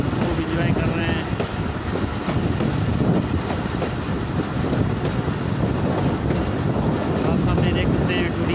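A passenger train on the Kolpur to Sibi route rumbles steadily and loudly from inside a carriage, with a constant low roar and faint wheel clatter throughout and no clear talk.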